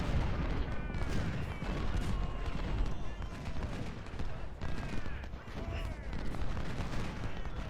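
Dense, continuous battlefield din of massed musket volleys and booming cannon fire in Ultimate General: Civil War, crackling shots layered over deep artillery rumbles with no pause, with some speech tagged underneath.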